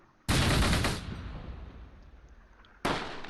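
Machine gun fire in the World War II strategy game Close Combat, set at Bas De Mouen near Caen in June 1944: a loud dense burst, a fading rattling tail, then another burst cut short.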